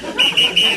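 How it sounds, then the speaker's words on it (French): A referee-style whistle is blown three times in a studio, short shrill bursts in quick succession, loud and close over a murmuring room. "il est temps de sortir le sifflet"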